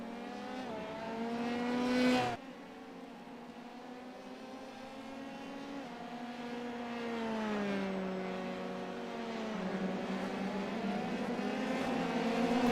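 Simulated race cars battling on track in the iRacing game: several high, whining engine notes rise and fall together, with a sharp drop near the start, then sustained layered revving as the cars run close.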